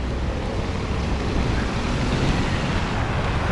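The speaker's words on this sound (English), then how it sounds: "the wind is cold and it's blowing from this way" Cold wind blowing outdoors on a Moscow street, a loud, steady rushing roar buffeting the microphone throughout with no pauses.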